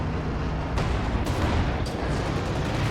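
A tank gun fires at a command Panther in a World War II strategy game amid battlefield noise: a dense, loud wash of blasts with a few sharp reports standing out, no voices.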